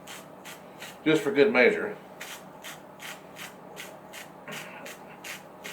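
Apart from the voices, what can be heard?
pepper grinder grinding black pepper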